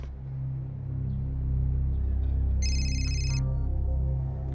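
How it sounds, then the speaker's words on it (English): A telephone rings once in a short electronic burst over a steady low hum, near and fairly clear, with no talk. "Later that day, Menina gets a phone call from the victim's cousin"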